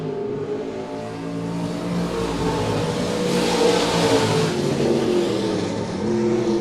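Super Stock race cars circle Monett Motor Speedway in a loud, continuous engine roar that swells as the pack passes close, with layered droning engine tones throughout.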